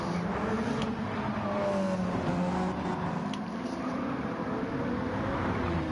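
Race car engines in a sim racing game at São Paulo, with an Audi among the field, form a steady blended drone of several engines, loud and continuous, with pitch that shifts as the cars accelerate and no talk.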